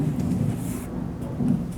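A thunder effect follows a lightning strike in a VR simulation, a deep, low rumble that rolls on throughout with a slight swell near the end.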